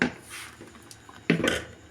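Dishes and pots clatter while being washed in a home kitchen, with a scrape early on and a sharper metallic clank midway. The sounds are close and fairly loud.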